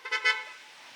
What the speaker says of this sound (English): Neighbors honking.